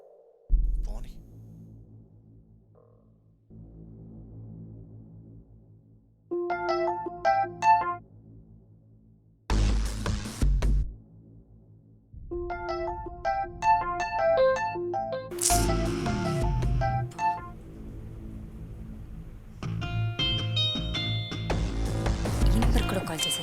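An incoming call's phone ringtone, a repeating electronic melody that plays in bursts with pauses, partly under talk and other sounds.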